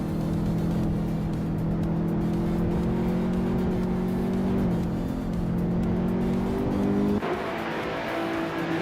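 A BMW M3 E46 race car engine howls at high revs during a race, a loud sustained drone with steady pitch shifting down at gear changes, other cars faintly in the mix.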